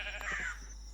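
Sheep bleat in the Minecraft Cobblemon video game, oversized in-game sheep giving a single short, thin bleat at moderate level with no talking.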